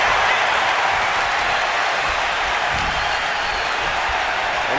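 A packed arena crowd cheers and applauds during a CM Punk versus Penta wrestling match in the WWE 2K25 video game, a dense, loud, unbroken roar with no pauses.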